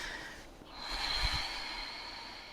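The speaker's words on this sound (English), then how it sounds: "breathing in and out through the nose if it's available" A single slow, soft breath in and out through the nose during a quiet morning yoga session, heard close and alone with a gentle airy rush that swells and fades.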